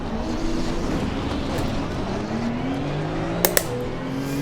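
Porsche 911 GT2 race car in Assetto Corsa Competizione, a rear-mounted engine droning at a steady mid volume with slowly shifting pitch, broken by two sharp clicks near the end.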